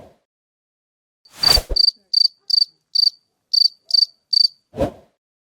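Cricket chirps used as a jingle for a Spanish podcast segment called "El grillo de la semana": about eight evenly spaced, sharp chirps sound alone in a clean recording, bracketed by short bursts of noise at the start and end.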